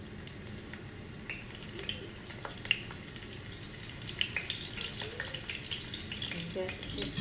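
Lamb meatballs fry in a pan of hot oil with a steady, close sizzle. Scattered pops and spits rise above the hiss throughout, with no speech.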